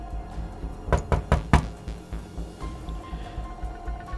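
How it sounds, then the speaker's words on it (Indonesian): A door is knocked in a quick cluster of four sharp raps, close and fairly loud, followed by faint softer thuds over a low steady background hum. "tapi pintu terus diketuk."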